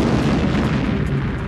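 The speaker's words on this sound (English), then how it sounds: "All I want to hear, Stilwell told Eifler, is booms from the jungle." Explosions booming in a jungle produce a loud, dense low rumble that sustains without clear breaks, heavy and close-sounding with no voices over it.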